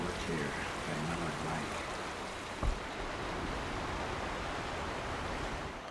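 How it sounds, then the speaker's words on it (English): A waterfall rushes in Horizon Zero Dawn, a broad steady roar of falling water with a single soft thud partway, faint voice-like murmurs underneath. "Pretty waterfalls too."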